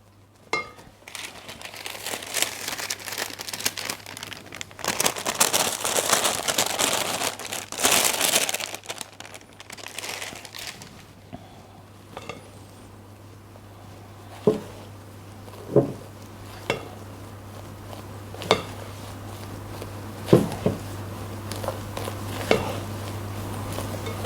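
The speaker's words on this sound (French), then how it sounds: "je manipule la maryse en tournant, en allant bien chercher au fond et en tournant bien" A silicone spatula folds dacquoise batter in a bowl, giving soft wet scraping and swishing strokes early on, then quieter folding broken by sharp taps against the bowl's side, all close with a low steady hum underneath.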